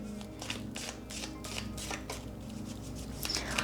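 Tea leaf oracle cards being shuffled by hand in a steady run of soft, papery riffling bursts, close and fairly quiet, with no talking.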